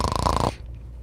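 A person imitates a snore by fluttering the uvula. It is one loud, rough, rattling burst about half a second long, very close, then it cuts off abruptly into quiet.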